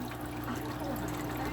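Water from an aquarium filter trickles down like a small waterfall into an axolotl tank, a steady close splashing wash with no pauses.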